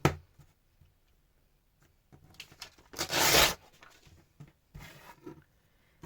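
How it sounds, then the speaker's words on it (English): Paper is torn by hand along a line in short, scratchy rips, with one longer, louder tear in the middle and quieter ripping bursts before and after, close and otherwise quiet. "I can tear just around where that line is"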